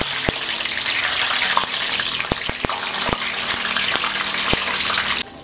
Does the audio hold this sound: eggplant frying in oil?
yes